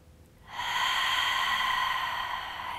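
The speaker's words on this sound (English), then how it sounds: "take a deep inhalation through the nose and out through the mouth" A person draws one deep, steady breath in through the nose during a yoga session, a sustained airy hiss that rises suddenly and holds evenly, close and fairly loud, with no talking.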